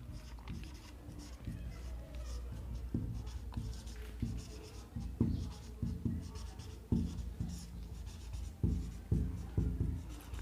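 Chalk or marker writes a math heading on a board, producing scratchy strokes and tapping dots in uneven bursts, close up with no voice heard.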